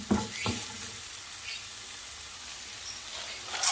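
Carrots sizzle and fry in a pan for bibimbap, a steady soft crackle with a couple of stirring scrapes near the start and another at the end.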